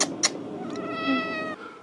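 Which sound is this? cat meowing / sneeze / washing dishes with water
cat meowing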